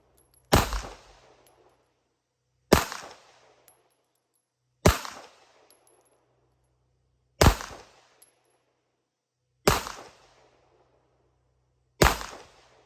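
Six loud, sharp pistol shots from a Rock Island Armory STK100, evenly spaced about two seconds apart, each cracking up close and decaying quickly into a quiet outdoor range.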